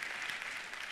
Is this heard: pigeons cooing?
no